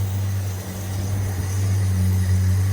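An XE Ford Falcon barn-find car, untouched for 13 years, idling quietly with a steady low hum and a smooth, even tone, heard close and alone without talk.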